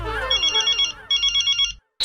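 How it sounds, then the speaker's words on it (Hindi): A telephone ringtone sounds loud and close, two pulsing electronic ring bursts over a musical backing, then cutting off abruptly. "वो जेठालाल का फोन, अभी बात नहीं कर सकता"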